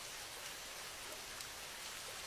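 Steady rain falling in an even, hissing wash, close and continuous with no voices.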